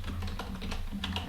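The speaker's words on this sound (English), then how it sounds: "after clicking the radio button, I will need to enter the password" Fingers type a password on a computer keyboard, a quick run of light, close key clicks at an uneven pace over a low steady hum.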